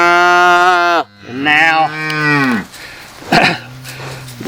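A registered cow or calf gives a loud, drawn-out moo close by during ear tattooing, followed by a second, shorter low bellow and a brief spoken phrase.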